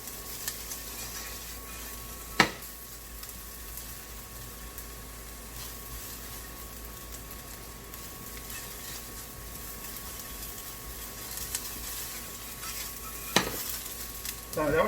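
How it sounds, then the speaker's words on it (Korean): Onions stir-fry in a pan over moderate heat, giving a soft, steady sizzle throughout, with two sharp utensil clinks against the pan and a few light scrapes near the end. "양파 너무 센 불에 색깔이 안 나도록 볶아주는 게 더 좋고요"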